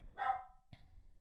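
A dog gives one clear bark followed by a shorter, softer second bark, both at moderate distance over a quiet background.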